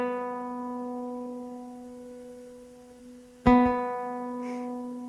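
An in-tune B string on a classical guitar sustains as a clean plucked note, then is plucked again midway with a sharp attack and rings on, close and solo.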